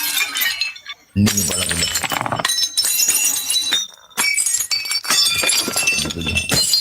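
Plates and a ceramic vase smashing one after another in loud, close bursts of shattering and clinking shards, separated by short silences, with a brief voice in between.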